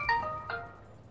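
Ringtone of an incoming VKontakte call, a short bright melodic chirp with two quick tonal bursts, moderately loud over low background rumble from a tank game.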